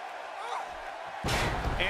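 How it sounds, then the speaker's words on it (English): A heavy body slam in the WWE 2K18 wrestling video game, a female wrestler driving her opponent onto the mat, lands as one loud, broad thud with a crowd-like roar swelling behind it. "And she slams her back down."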